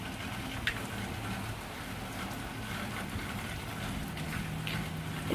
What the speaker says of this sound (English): raining. I mean, it just started just a little bit ago, and it is already puddles everywhere